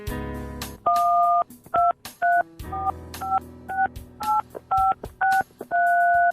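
Digits keyed in on a mobile phone keypad, producing a quick run of about a dozen short touch-tone beeps after an opening tone, crisp and close with no talk.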